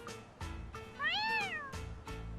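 A stray cat in the video game Yakuza: Like A Dragon lets out a single clear, rising-and-falling meow, close and fairly loud, over a low game background with soft thumping steps.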